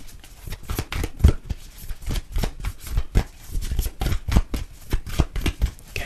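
Tarot cards are shuffled in a steady run of crisp riffling and flicking, close and fairly loud, with short uneven bursts repeating throughout and no voices.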